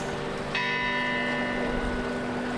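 A clock tower bell in Interlaken, Switzerland strikes once with a clear, ringing onset, its tones lingering and slowly fading over a steady crowd murmur.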